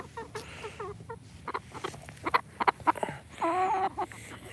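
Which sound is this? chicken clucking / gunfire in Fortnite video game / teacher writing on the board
chicken clucking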